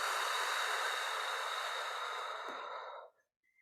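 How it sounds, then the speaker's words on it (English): A long, slow exhale during a breathing exercise, a close breathy rush that fades out after about three seconds into silence. "Another time, inhale and exhale."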